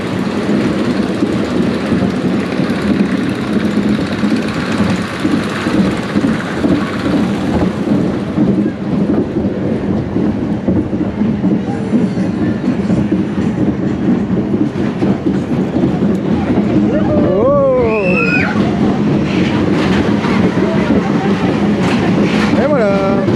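The "La Chenille" ride rumbles steadily at Energylandia amusement park, a loud continuous roar with wind and rattling. Near the end come brief higher squeals, and faint voices sit under the din.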